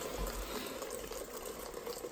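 Water trickles steadily into protein pancake batter in a kitchen, a soft continuous pour heard up close without talk.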